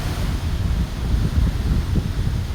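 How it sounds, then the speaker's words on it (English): Strong wind buffeting the microphone on Las Cuevas Beach in Trinidad, a loud continuous low roar with gusty fluctuations and a faint wash of surf beneath, no voices. "you're not feeling the wind on your back as I am"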